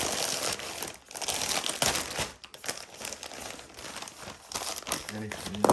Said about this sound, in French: je vais être aidé pour ouvrir les paquets